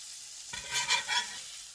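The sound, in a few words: poor man's steak patties frying and being flipped in pan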